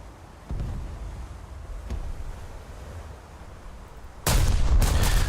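Battleship main guns in a naval video game firing on the Nassau, a dull boom early on, then a sudden loud blast near the end amid constant wind and sea rumble.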